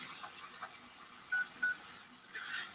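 Two short, faint telephone keypad tones sound as a cell phone number is dialed, set against a steady low background hiss.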